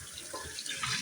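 Tap water runs steadily into a kitchen sink for washing small potatoes, a continuous close splash and hiss with no talk.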